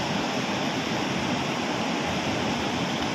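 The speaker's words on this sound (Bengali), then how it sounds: "ওই যে সামনে জলের স্রোত দেখতে পাচ্ছি, ওটাই লাফিয়ে পড়ছে, ওটাই সবথেকে বড় সেই ফলস" Usri waterfall roars as its stream of water drops over the falls, a broad, steady rush of water that stays loud and unbroken throughout, with no voices.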